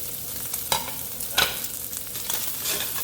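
Bacon sizzles and fries in a pan with a steady crackling hiss, close by, broken by a few scraping stirs of a utensil against the pan, with no talking.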